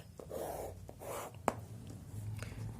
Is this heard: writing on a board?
yes